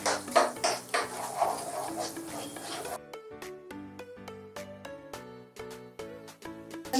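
Eggs cooking in a pan for egg fried rice, with busy clattering and scraping against the pan for about three seconds before steady music takes over.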